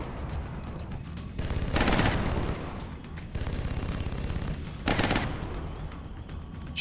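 Suppressing fire on a Muton in XCOM: Enemy Unknown, with two loud automatic bursts a few seconds apart over lower background game noise.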